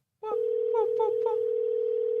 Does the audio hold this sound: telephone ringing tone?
yes